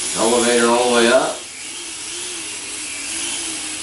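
The small electric motor of an Uberlite RC plane flying indoors whines at low throttle, its pitch sweeping up and down before settling into a softer, steady hum, with someone talking over it.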